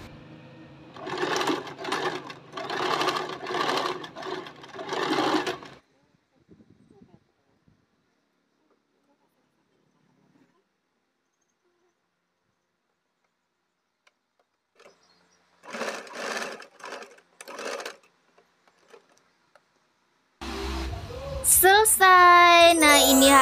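A sewing machine stitches down the middle of a trouser leg in several loud bursts of steady whirring, separated by long quiet gaps, before other sounds begin at the end.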